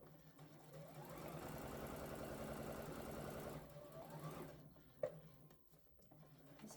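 A sewing machine back stitches fabric at a French seam. It gives a close, steady motor whir with rapid needle chatter for around three and a half seconds, a short slower burst follows, then it stops, leaving a sharp click and faint handling sounds.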